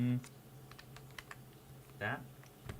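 Soft clicks from a wireless computer keyboard being typed on, sparse and light, with a brief voice cutting in near the middle and the end.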